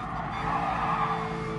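A race car in GT Sport brakes hard and its tires skid in a loud, continuous squeal over the engine noise, with no talking.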